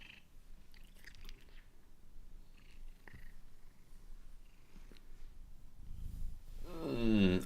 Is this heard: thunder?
no